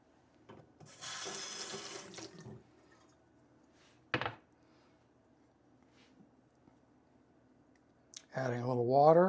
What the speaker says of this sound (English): Adding a little water